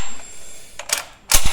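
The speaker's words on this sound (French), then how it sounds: "Culasse très fluide" An SVD Dragunov rifle bolt cycling in a few sharp mechanical clacks, a quick pair of metallic snaps followed by a louder, heavier clack and slide at the end, close and alone.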